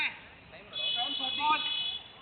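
A match timer buzzer sounds with a steady electronic tone at a cricket game, holding for most of the moment while players call out and talk over it.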